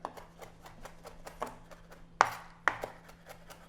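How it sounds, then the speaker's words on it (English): A knife mincing fresh basil leaves on a cutting board, a soft steady run of quick chops with two sharper, louder knocks near the end, close up and with no voices. "I'm just going to mince them."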